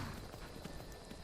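Hooves of a dwarven horse clop in Skyrim, a quiet run of soft, muffled footfalls under a dense, steady game background.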